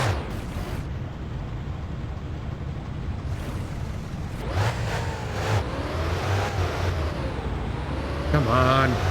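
Engine of a worn-out old car in My Winter Car being cranked and revved back to life after a stall, a rough rumbling drone that builds and surges under intermittent talk.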